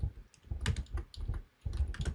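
Code is typed on a computer keyboard in quick clusters of close, crisp key clicks, with a short pause between bursts.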